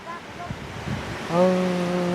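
Strong wind blows outdoors during a storm, making a steady, rushing roar, and a voice calls out over it partway through.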